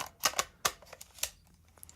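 A camera lens locking back into the camera body gives a few sharp, metallic clicks close by, a cluster of quick transients spread over two seconds with short quiet gaps between them.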